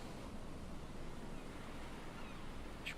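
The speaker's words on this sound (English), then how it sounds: "Just the ocean." Open-ocean waves in the survival video game Raft: a steady, even wash of surf and wind noise fills the whole stretch at low volume, with no voices.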